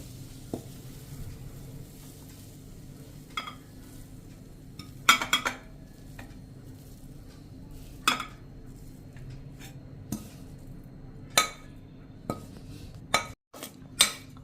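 Cooked radish leaf curry is scraped and spooned from a pan into a bowl, giving a series of sharp metallic clinks and scrapes at irregular intervals over a faint steady background.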